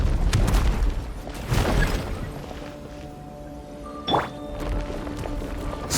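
A breakable wall is blasted open in Genshin Impact: several heavy booming impacts, a close thud at the start, another shortly after, and a sharp burst later, set over game ambience.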